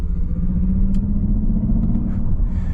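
A 2022 Mercedes EQS 450+ electric car pulls hard under acceleration, heard from inside the cabin as a steady, loud low rumble of road and motor noise with no voices.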